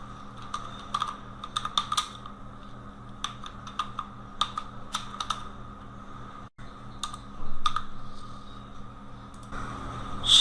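Rapid keyboard typing in irregular bursts of close, crisp clicks with short pauses between, alone against a faint steady hum.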